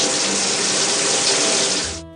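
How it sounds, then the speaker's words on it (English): A shower runs steadily as a loud, close, even hiss of spraying water that keeps up for about two seconds, then cuts off abruptly near the end. "A shower."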